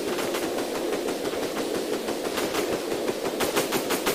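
Rapid naval gunfire from warships in a naval battle game, a steady stream of fast repeating shots pulsing evenly at a distance throughout, with no talking.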